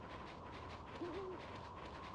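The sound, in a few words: owl hooting in the video game Ōkami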